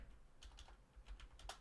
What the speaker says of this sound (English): Put this in front of me so I'm not typing on the wrong keyboard continuously